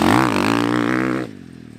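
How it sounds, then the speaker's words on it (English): A motorcycle engine drones loudly as the bike brakes hard, its pitch wavering with a rapid chattering pulse from the wheel, then cutting off abruptly near the end. "That wheel chatter coming in."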